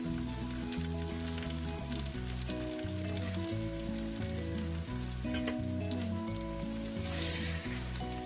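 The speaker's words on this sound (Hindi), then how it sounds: "चिकन को अच्छी तरह से फ्राई कर लेंगे ताकि हाफ ब्राउन हो जाए।" Boneless chicken frying with onions in a pan, a steady sizzle heard faintly beneath loud rhythmic background music.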